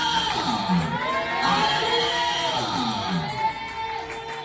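A church congregation cheers and acclaims together, many voices whooping and shouting in a sustained, lively swell of crowd noise.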